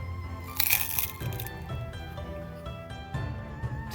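Nori-flavored Umaibo puffed corn snack being bitten and chewed, with a sharp crack up close followed by a few softer crunches, no talking.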